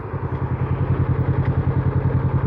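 A Kawasaki Vulcan motorcycle engine runs steadily on an evening ride, a loud, close, rhythmic low thumping pulse that holds even throughout with constant rumble and wind behind it.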